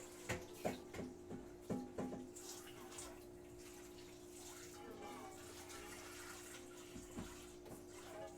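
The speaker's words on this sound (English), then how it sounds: "Dish cleaning ASMR." Dishes are washed in a kitchen sink with water running, punctuated by several sharp clinks and knocks of crockery early on, then a steadier trickle and splash with occasional clatter.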